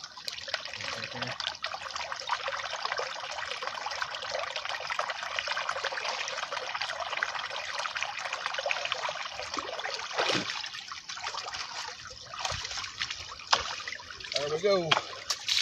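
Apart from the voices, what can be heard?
running water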